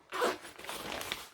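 A zipper on a sewn bag pocket being pulled open, one quick rasping zip lasting about a second, close and fairly quiet.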